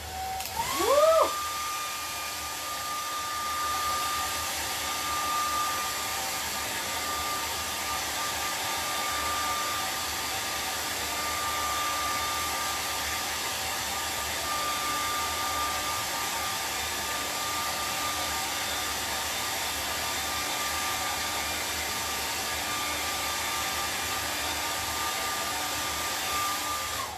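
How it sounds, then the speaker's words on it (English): Hair dryer blowing on wet acrylic paint on a canvas, switching on with a brief rising whine, then running as a steady airy roar with a faint constant tonal whine for nearly half a minute. "Let's give her the hair dryer."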